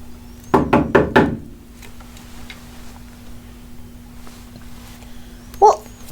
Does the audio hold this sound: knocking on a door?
yes